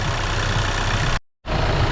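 An Audi A3 2.0 TDI diesel runs after a timing belt replacement, a steady loud idle clatter broken by one brief dead gap before it resumes.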